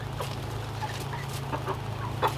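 A Polish chicken and other backyard chickens cluck softly in short scattered notes over a steady low hum, with no talk.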